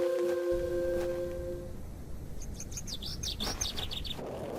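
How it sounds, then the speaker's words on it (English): In the video game The Excavation of Hob's Barrow, a bird chirps in a quick run of bright, high tweets. A short tonal chime comes before it, and a low ambient rumble runs underneath. "The bird with the red eyes again."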